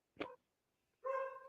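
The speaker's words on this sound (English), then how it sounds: "Hey, shut your fucking dog up!" A dog barks twice, a short sharp bark followed after a pause by a longer, higher whining bark, heard faintly over a phone call.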